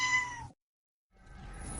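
A cat gives a short, clear meow up close, followed by a brief silence and then soft background noise.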